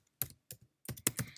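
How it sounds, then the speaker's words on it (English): Someone typing a fish taxon name into a search bar on a computer keyboard: a handful of quick, close key clicks in two small bursts separated by a brief pause, with no speech. "So if I start typing in its name, it auto-populates with the different Pseudobarbus species"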